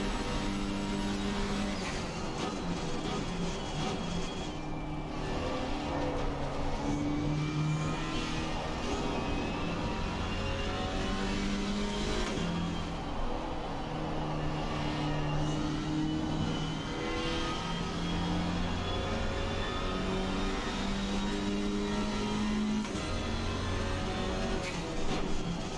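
Race car engines in Assetto Corsa Competizione, a steady dense roar of several cars running together, revving and shifting continuously and loud throughout with no talk.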